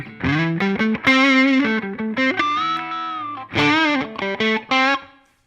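An electric guitar plays through a downloaded Line 6 patch with the Tube Screamer and Klon models switched off. Loud, distorted, chorus-tinged melodic phrases and sustained notes are played alone, with short gaps between them.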